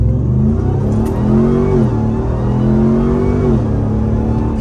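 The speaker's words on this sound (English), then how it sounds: "And we'll do a little 0 to 60 run here." A Ram TRX Hellcat pickup accelerates hard from a standstill toward 60 mph, its supercharged engine heard from inside the cab as a loud, steady roar. The roar rises in pitch, drops briefly at a gear shift, then climbs again.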